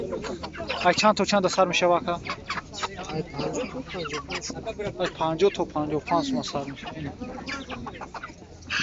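Broiler chickens clucking at a busy livestock market, a dense steady chatter of many birds close by, heard beneath constant bargaining voices of people talking throughout.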